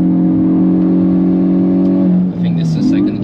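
A car engine revving hard toward the limiter on the Nurburgring, a loud steady buzzing drone that dips briefly as the gear changes, with tire and road noise and talk over it.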